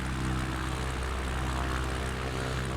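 Cubcrafters XCub propeller plane in Microsoft Flight Simulator 2024 at the end of runway 3, its engine drone steady and loud throughout with no voices, holding a constant buzzing tone as the takeoff roll begins.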